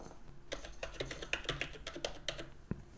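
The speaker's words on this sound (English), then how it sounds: "Type your actual password" A password is typed on a computer keyboard, a quick uneven run of close, light key clicks with brief pauses between bursts, no voice.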